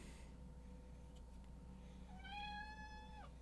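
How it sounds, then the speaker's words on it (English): A pet cat named Artemis lets out one drawn-out meow near the end, clear and fairly close, after a stretch of quiet room hum. "And there's the cat."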